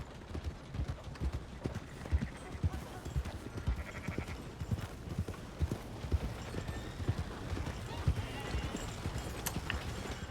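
Horse hooves clip-clop steadily on the ground in Red Dead Redemption 2 as a mount walks along, a continuous rhythmic trot under ambient game sounds, with occasional faint voices.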